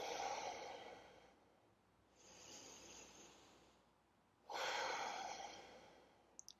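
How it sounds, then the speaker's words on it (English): Slow, deep breaths during a calming yoga breathing exercise, a long airy inhale, then a softer exhale and another strong breath, close and unhurried with pauses between, and no talking. "you can close your eyes and breathe in for 3"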